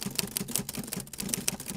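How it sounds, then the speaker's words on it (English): Rapid mechanical typewriter clacks used as a sound effect, a dense, irregular run of sharp key strikes close up and fairly loud, with no voices. "So this typewriter sound effect, I will just quickly import it there."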